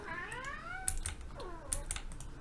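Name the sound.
cat meowing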